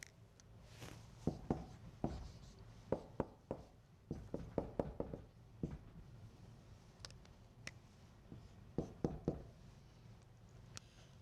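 Chalk or marker taps and scratches on a lecture board as a chemical structure is drawn, quick irregular clusters of strokes with pauses between, fairly faint.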